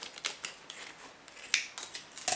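Scissors snip through a rubbery kombucha mother culture in a series of short, crisp cuts, close and fairly quiet, with a louder rustle at the end.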